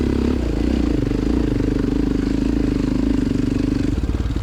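Small quad bike engine laboring up a hill during a cross-country race at Raper Farms, a loud, pulsing low drone with steady revs and rattling clatter, held close throughout.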